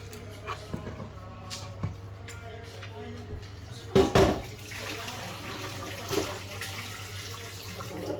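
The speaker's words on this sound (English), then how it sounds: "So I'm just washing the vegetable now," Tap water runs steadily over a vegetable being washed and rubbed by hand in a home kitchen, a continuous splashing stream with a louder gush midway and a low hum beneath.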